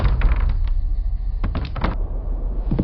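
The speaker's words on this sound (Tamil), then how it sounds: "கதவு ஏன் தானா மூடுது?" A door in an enchanted forest hideout swings shut by itself, a short burst of knocking, rattling mechanical thuds with a few sharper bumps near the end, close and fairly loud, no voices.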